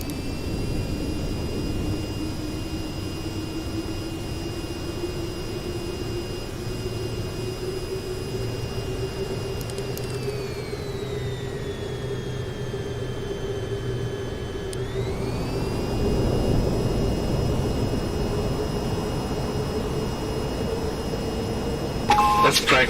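A jet airliner engine in a flight simulator video game roars steadily after takeoff, its whining tones sliding down and back up as the aircraft climbs, while a narrating voice speaks over it.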